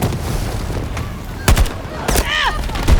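Battlefield 6 combat with scattered sharp gunshot cracks and bursts arriving in irregular clusters, some close and loud, over a background din, with whistling effects near the end.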